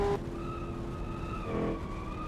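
A muscle race car in a racing video game brakes hard into a corner, its tires squealing in a sustained, wavering whine over the low engine rumble, moderately loud and close.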